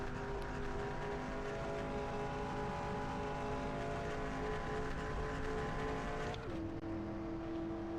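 Race truck engines roar at a steady high drone in NASCAR Racing 2003, a simulated Martinsville oval race, the pitch dropping suddenly near the end as the throttle lifts, loud and continuous with no voices.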